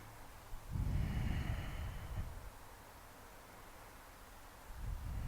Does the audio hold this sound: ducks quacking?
no